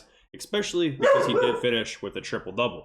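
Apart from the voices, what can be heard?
dog barking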